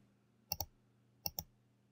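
Two quick double clicks of a computer mouse toggling a layer's visibility in Photoshop, crisp and close, separated by a short pause over faint room hum.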